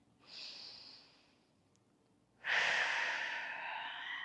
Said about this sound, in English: you're literally just going to breathe